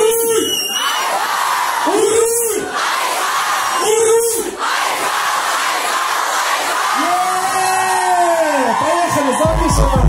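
Concert crowd in Yakutsk shouting and singing along loudly, a dense roar of many voices with repeated rising chants that swell and break off in bursts.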